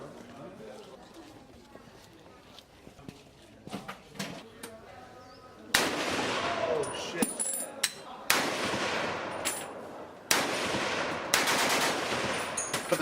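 Real guns fire at the Cu Chi Tunnels shooting range in Vietnam, sharp echoing cracks and short bursts ringing out at irregular intervals, some distant and some close and loud.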